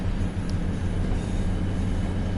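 Train rumbling along the track in Train Sim World 5, a continuous heavy low roar with faint wheel hiss, steady and close throughout with no voices.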